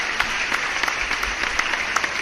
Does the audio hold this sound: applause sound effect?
yes